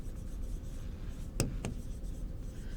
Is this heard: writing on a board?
yes